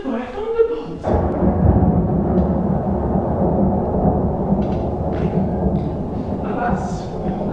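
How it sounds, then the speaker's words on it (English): Thunder rumbles through a stormy radio play of The Tempest, opening with a sharp crack and then rolling on as a broad, continuous low roar, with faint brief voices now and then. "Alas, the storm is come again."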